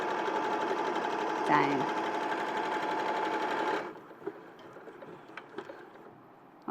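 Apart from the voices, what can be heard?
sewing machine stitching a 5/8 seam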